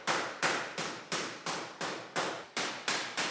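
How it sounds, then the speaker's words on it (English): Lama Rinchen hammers the metal edges of a lotus statue base, about nine evenly spaced ringing strikes in a steady rhythm, each decaying before the next, close and clear with no talk. "Lama Rinchen is personally hammering the edges of the lotus."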